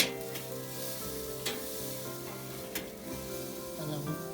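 Steady, moderate sizzle of fat from a thick tomahawk pork chop searing in a pan, continuous crackle with a few brief louder pops and scrapes, no talking.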